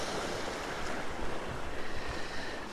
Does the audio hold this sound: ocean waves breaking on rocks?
yes